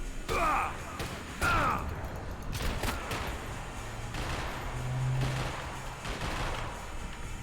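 Shotgun blasts and gunfire in the video game Max Payne 3, a few sharp loud bursts with quieter shots and game ambience between them, with a voice heard briefly.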